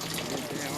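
Water poured into tanks for purification on a rafting expedition, a continuous splashing gush close by, brief and steady.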